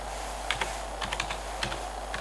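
Keystrokes clatter on a computer keyboard during plotting work in a control-systems modeling session, a few quick bursts of taps with short pauses in between, close and moderately quiet over a steady background hiss.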